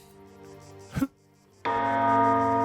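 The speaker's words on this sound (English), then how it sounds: "rang the bell." A bell rings in the video game Baldur's Gate 3, a sustained resonant tone fading, a brief thump, then a fresh loud strike that rings on with bright overtones.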